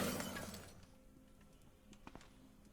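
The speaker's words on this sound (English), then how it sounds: "From the southeast, we hear glass breaking, so there is something alive" Glass shattering somewhere off to the southeast in Cataclysm: DDA, a single faint crash that fades quickly, followed by a few small clinks, heard quietly and alone.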